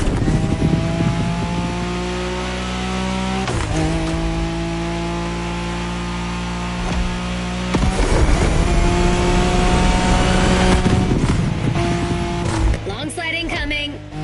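A car drifting in The Crew Motor Fest on PS5, with a loud engine holding a steady revving tone and sustained tire squeal across long slides, broken by sudden gear or throttle changes, and a voice talking over it.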